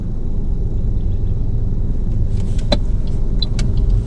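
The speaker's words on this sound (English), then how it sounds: "there's a car coming" A car approaches on the road and passes near a car in motion, heard as a steady low rumble with a few faint ticks and clicks inside the cabin.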